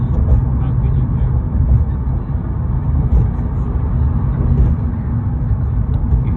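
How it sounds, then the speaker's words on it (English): Dense rush-hour traffic on Interstate 10 near New Orleans makes a steady low rumble and road roar, heard from inside a moving vehicle under people talking. "Whoa, a lot of traffic."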